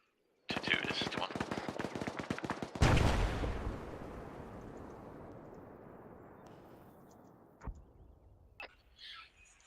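Automatic rifle and machine-gun fire in the military shooter Arma: rapid bursts of rounds, then a loud heavy blast that rolls off into a long decaying echo, with a few scattered later shots.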